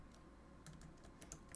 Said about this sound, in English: Sorry, I'm just typing this out.